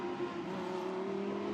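A Lamborghini Super Trofeo race car at Misano, its steady engine drone humming at moderate distance with a sustained mid tone, fairly faint and unbroken, no talking.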